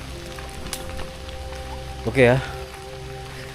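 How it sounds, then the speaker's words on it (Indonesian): Cold rain falls steadily at night over a sacred graveyard, a constant soft hiss of drops, with someone speaking briefly over it. "karena hujan yang cukup dingin di sini"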